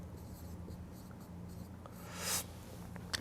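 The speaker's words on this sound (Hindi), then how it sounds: "क्वेश्चन में एक बार इसको लिख भी देता हूं बोर्ड पे" Marker or chalk writing on a classroom board, quick scratchy strokes in short repeated bursts with a brief louder squeak near the end, faint and close, no talk.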